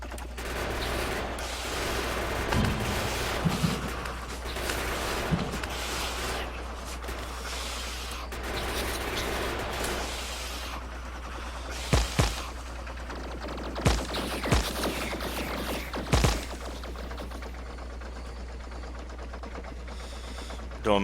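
Tank gunfire in the Factorio video game, a series of sharp shot bursts clustered around the middle of the stretch over a steady low hum, with a few softer impacts early on and no talking.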